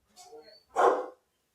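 Dogs bark in a short, close burst, a single loud bark following a softer whining or vocal sound.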